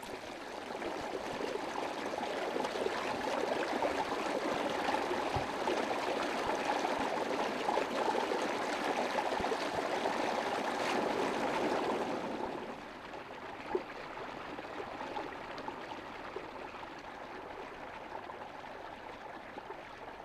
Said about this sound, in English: As a result of the snowfall on the high ground, there are many springs and permanent streams.